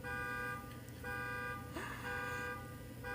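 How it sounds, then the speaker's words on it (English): A car alarm goes off outside, a steady, continuous electronic tone that repeats in cycles and holds at moderate loudness throughout, with no voices heard. "somebody alarm going off"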